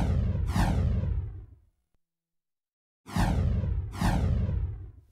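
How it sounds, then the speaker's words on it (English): The same whoosh sound effect plays three times from a Pro Tools timeline, each a loud, full sweeping rush lasting about a second, the first separated from the other two by a stretch of silence. "I have several copies of the same whoosh on the timeline here"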